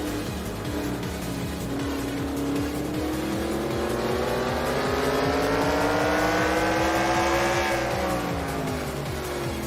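Stock cars at Martinsville in the NASCAR Racing 2003 video game, a loud continuous pack of engine drones rising and falling together in pitch as the cars run close.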